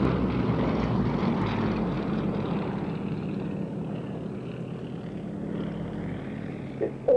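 Aircraft engine roar from a solo display plane flying a gentle barrel roll at the RAF Waddington airshow, a steady distant drone that swells slightly toward the end.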